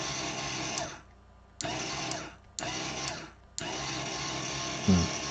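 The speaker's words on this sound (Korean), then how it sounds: "이거 딱 누르면 이제 DC 모터가 이렇게 돌아가는 겁니다" A small DC motor driven from an ESP8266 board through an ESPHome switch whirs in four bursts with short silent gaps between them, close and steady in each run.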